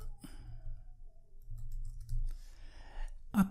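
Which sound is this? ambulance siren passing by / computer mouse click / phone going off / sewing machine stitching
computer mouse click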